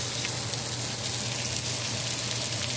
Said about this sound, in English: now I'm just letting the butter and the oil do its job to get it the nice brown color